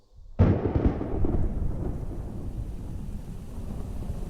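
A sudden loud thunderclap cracks and then rolls into a long, rumbling decay over a hiss of storm rain and wind, standing in for a hurricane striking near New Orleans.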